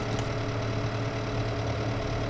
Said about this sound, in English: we've got another tractor which needs to be filled